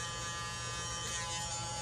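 A small cordless handheld vacuum runs continuously at close range, a loud, steady buzzing whine with a low motor hum beneath, uninterrupted and with no voices.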